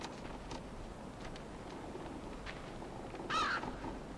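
A crow caws once, faint and distant, in the dark ambience of the game Limbo, with a soft hiss of wind beneath and a few fainter calls around it.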